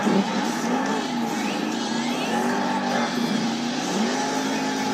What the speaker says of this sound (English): The truck is turning, that could be bad.